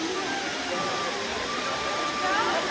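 Clear mountain water rushes steadily in a broad, even wash near McLeodganj, a popular spot with a small cafe, while faint voices of people enjoying themselves sit low in the background.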